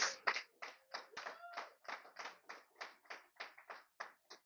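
A church congregation claps in a steady, even rhythm, about a dozen sharp hand claps spaced regularly, close and clear against an otherwise quiet room.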